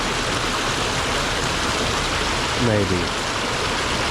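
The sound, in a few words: creek rapids flowing water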